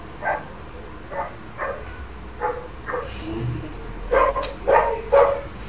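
Dogs bark in short, separate bursts, about seven or eight, growing louder and more clustered toward the end, against a quiet indoor background.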